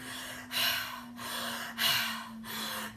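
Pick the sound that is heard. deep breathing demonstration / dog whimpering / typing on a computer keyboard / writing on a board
deep breathing demonstration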